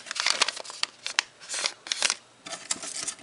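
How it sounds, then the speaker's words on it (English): The top of an eco-friendly plastic packaging bag for an iPhone 5 Elago Flex phone case is torn open close by, giving a quick series of crisp, crinkly ripping bursts with brief pauses between them. "you're going to just tear it at the"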